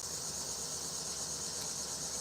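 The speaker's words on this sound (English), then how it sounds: "I do probably like the cricket sound from the females more than anything else." Dense, continuous high-pitched cricket chirping from a farm, a steady shrill drone of many insects, no pauses and no voices.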